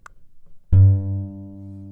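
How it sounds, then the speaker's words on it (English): A single guitar G note, plucked on the low E string at the third fret, rings out clearly and decays slowly on its own after a faint rustle. "And that note is the G note."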